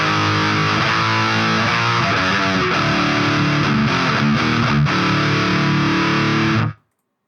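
Heavily distorted electric guitar through an Audiority GrindStein amp plugin on the North Winds preset, playing a brutal grinding riff for several seconds. Loud, dense and saturated, then cut off abruptly into silence.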